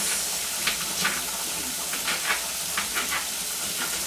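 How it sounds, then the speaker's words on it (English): Tomatoes hit browned onions in a hot pan and fry with a steady, close sizzle and hiss, punctuated by soft stirring scrapes. "I'm gonna add my tomatoes in the onion."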